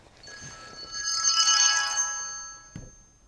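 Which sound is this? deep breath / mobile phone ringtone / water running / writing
mobile phone ringtone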